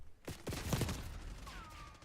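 Shots pierce a wall in the shooter game Valorant, a short cluster of rapid gunfire cracks at moderate distance, followed by a thin steady electronic tone.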